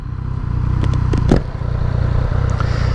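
A sport bike's engine roars loud and close as it revs hard through a second-gear power wheelie, a steady dense rumble with a brief surge near the middle.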